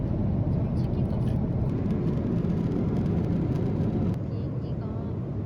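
Constant broadband engine drone inside an airplane cabin in flight, a dense, even rumble that barely changes, with speech faintly underneath.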